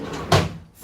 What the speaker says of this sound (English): This drawer is irritating me already.